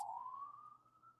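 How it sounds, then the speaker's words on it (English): A distant ambulance siren passes by as a single faint, rising wail that holds steady briefly. "an ambulance goes by"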